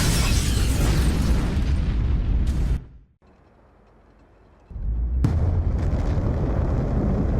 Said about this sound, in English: Looked like some sort of futuristic electroshock lightning nuke